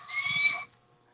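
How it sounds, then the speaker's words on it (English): A single shrill, drawn-out screech lasting just over half a second, loud and close, then silence. "There's an eagle, guys."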